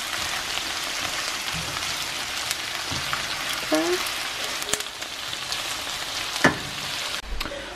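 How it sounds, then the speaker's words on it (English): Shrimp patties frying together in a pan, a steady close sizzle with small crackles and a few louder pops and scrapes running throughout. "I'm going to fry them both together"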